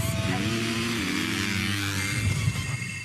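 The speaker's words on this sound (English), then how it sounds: "Let's fire up the engines." Motocross motorcycle engines idle and rev together in the Philippines, a dense, loud buzzing drone with rising and falling pitch, steady throughout with no speech.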